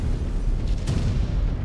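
A mech exploding in MechWarrior 5: Clans: a loud, deep booming rumble that fills the whole moment, with a sharper crack near the middle and no talk.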